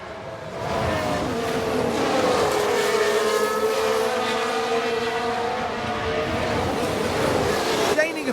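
In an F1 Manager 22 race replay set in the 1995 season, race car engines whine in a continuous high-pitched drone as cars sweep past, loud and sustained with a faint wash of crowd-like noise underneath.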